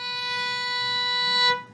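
A single sustained B note bowed on a beginner's string instrument, steady and clear for about a second and a half before it fades out, played alone with no talk.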